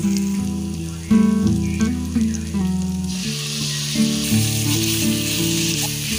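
Steady sizzling of boneless chicken mince frying with garlic in a hot pan, loud and close, with background music playing throughout.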